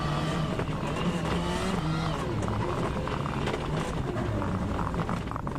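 A Ford Focus WRC rally car spins and drives on a Norwegian rally stage, its engine droning loudly and steadily throughout, with commentary talking over it.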